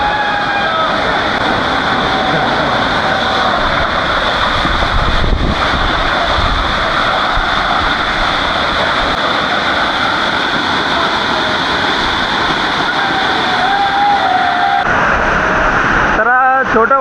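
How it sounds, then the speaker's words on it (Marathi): A small waterfall beside a trail at Bhandardara makes a constant, loud rushing roar of falling water, mixed with gusty wind buffeting the microphone throughout. "हा छोटा वॉटरफॉल आहे"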